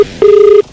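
A single electronic telephone ring tone as a call is placed, one clean steady beep lasting under half a second, loud and close, with no talking.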